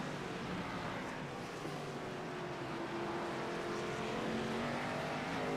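Ford Mustang Xfinity Series race cars at Sonoma road course roar continuously through the esses, a steady dense engine drone with shifting pitch as cars pass, loud and unbroken throughout.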